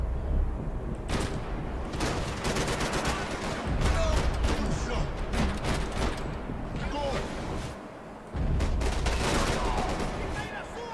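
Rapid bursts of gunfire in the Max Payne 3 video game crack in dense clusters across the stretch, with a brief lull before resuming, partly under a voice talking.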